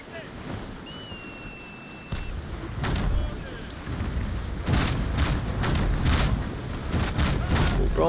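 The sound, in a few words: ship cannon broadside firing in the video game Naval Action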